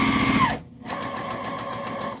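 A domestic sewing machine chain pieces fabric for a bag, running in a fast, steady whir, stopping briefly for a split second, then stitching on continuously, close and loud with no talk.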